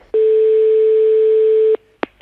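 Telephone line tone from a call being placed, a single steady beep held for about a second and a half, loud and clean, followed by a short click.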